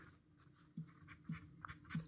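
Numbers are handwritten in a maths lesson, with a few soft pen-on-paper strokes and taps spaced apart at low volume.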